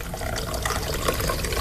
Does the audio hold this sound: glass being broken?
no